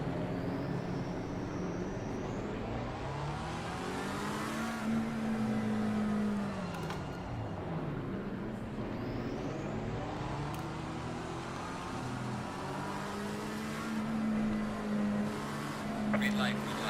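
GT race cars rev together at the start of a race at Misano in Assetto Corsa Competizione, with loud engine notes rising and falling in pitch across the grid while a voice talks over them.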